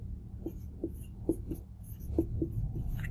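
Marker or chalk strokes on a board during a chemistry lecture on reaction kinetics, a string of short, light taps and scratches in an uneven rhythm, close and fairly quiet, with no talking over them.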